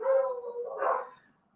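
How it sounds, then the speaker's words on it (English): Dogs barking outside, a pair of close, fairly loud barks in quick succession, the second higher and yelpier, then quiet; no talking. "Those dogs are just going crazy today."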